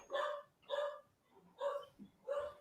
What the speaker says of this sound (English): My dog's having a fit.